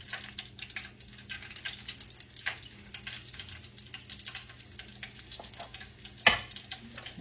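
Hush puppy batter dropped into hot oil, a soft steady crackling sizzle with scattered pops and one sharp louder splash-like burst near the end, close and quiet with no talking.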